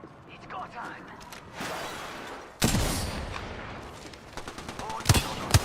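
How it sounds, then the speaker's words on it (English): Automatic gunfire in the battle royale game Apex Legends, bursts of shots that grow sharper and louder midway, with cracks and rattles continuing near the end, close and under a speaking voice. "They're shooting at me."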